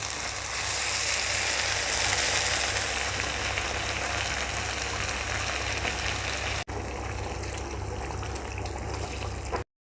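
Beef sizzling and frying in a pan for a Balinese-style dish, with water added so the hiss turns into a steady, loud bubbling that runs throughout, a brief dip near the end, with no talking.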